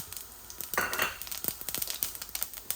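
Two or three bay leaves dropped into hot oil with fennel and cumin for a tempering over bottle gourd, giving a sudden sizzle followed by crackling pops and light utensil clinks, close and moderately quiet.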